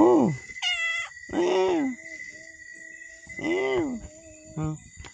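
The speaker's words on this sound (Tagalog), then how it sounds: "Ang makulit na pusa." A playful pet cat meows near a campsite, letting out several drawn-out meows spaced a second or so apart, close and clear, with a short spoken word between them.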